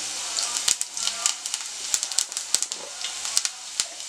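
Fennel seeds, cinnamon, cloves, cardamom and chopped garlic frying in hot oil for a palak tofu paneer. A steady bright hiss runs under sharp, irregular pops and crackles, close and on its own.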